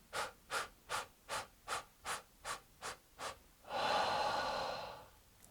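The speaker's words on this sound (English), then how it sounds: "stagger the incoming breath in small steps to get the lungs full and take a single outgoing breath" Yoga breathwork done through the mouth, with nine short staggered inhales in a steady rhythm, then one long, breathy exhale, all close and quiet.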